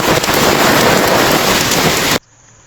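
Heavy typhoon rain pours down in a dense, loud, steady roar with no voices, then cuts off abruptly near the end.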